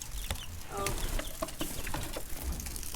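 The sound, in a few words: chickens clucking while going into the coop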